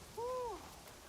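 A single soft, tonal hoot from a bird in Assassin's Creed Shadows, one brief smooth call that dips slightly at its end and sounds faint against a quiet background.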